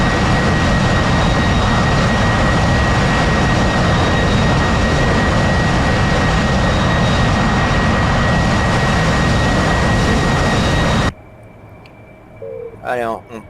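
AV-8B Harrier jet engine roaring loud and steady on the aircraft carrier John Stennis, a dense wideband blast with a thin whine, cutting off abruptly near the end, leaving quiet background and brief faint sounds.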